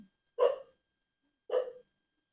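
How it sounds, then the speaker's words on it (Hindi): Two short, sharp dog barks ring out a second apart at 3 a.m. in a quiet night, moderately distant with silence around them. "कुत्ते लोग भी भौंकने लग गए"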